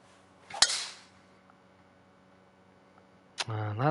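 A golf club strikes a ball off the tee with one sharp crack on a drive, then quiet outdoor air before a voice starts speaking.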